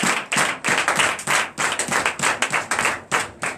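A church congregation claps in a steady rhythmic beat, close and loud, each clap sharp and evenly spaced with no voices over it.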